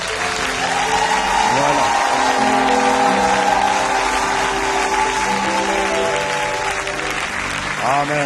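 A church congregation applauds steadily throughout, dense clapping filling the room with some cheering, while a preacher speaks over it.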